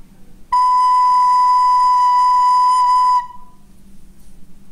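A single sustained recorder note B, fingered with the thumb and first finger, rings out clear and steady for about two and a half seconds, then stops, leaving only faint room hiss.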